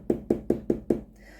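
A knife chops tomatoes on a cutting board, five evenly spaced heavy thuds in quick rhythm, close and dull, then the chopping stops.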